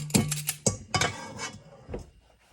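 A spoon scoops a portion of chocolate chip cookie dough from a bowl, making a few sharp clinks and scrapes against the dish, close and fairly loud, with softer rubbing sounds trailing off.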